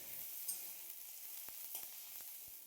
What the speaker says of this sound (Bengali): এখন সব কিছু আবারও ভালো করে ভেজে নিতে হবে যতক্ষণ না পর্যন্ত আদা রসুনের কাঁচা গন্ধটা